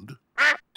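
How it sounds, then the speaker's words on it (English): A cartoon duck sitting on a pig's head gives two loud, close, nasal quacks separated by short silences. "Daddy Pig, did you know you've got a duck on your head?"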